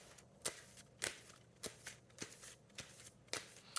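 Oracle cards being shuffled by hand, faint and close, with a soft papery rustle broken by sharp riffling snaps about every half second.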